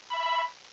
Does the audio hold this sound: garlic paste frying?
no